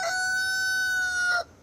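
A rooster crows once, close and clear, in a single long sustained call at a chicken and egg plant in Middle Tennessee, with no voices under it.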